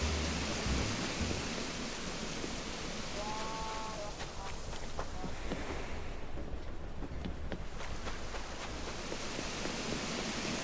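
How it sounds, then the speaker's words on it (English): A steady, full rush of falling water fills a waterfall tunnel in Animal Crossing: New Horizons, with faint tones and soft clicks surfacing briefly through the constant roar. "This little like waterfall tunnel thing is sick"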